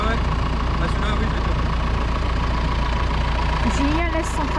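Farm tractor engine idling with a steady low rumble, close and continuous, with faint voices and a brief higher whine near the end.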